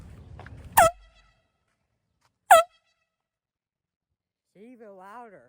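Two sharp, loud air horn blasts about two seconds apart, played as a neighborhood prank; a low rumble and a faint voice come before the first blast, and a warbling tone follows near the end.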